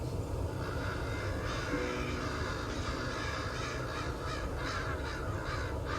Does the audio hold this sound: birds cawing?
yes